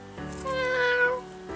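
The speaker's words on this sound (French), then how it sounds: "Oh, trop mignon. Petit chat." A single clear cat meow, a drawn-out tonal call rising and falling over about a second, heard close and alone with quiet room noise around it.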